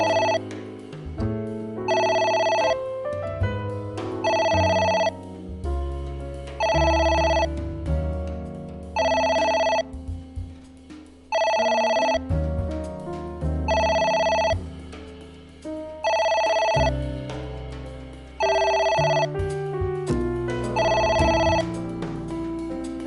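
A telephone rings over and over in short, evenly spaced bursts, each a bright electronic ringtone, sounding over a steady background music bed for more than twenty seconds with no voices.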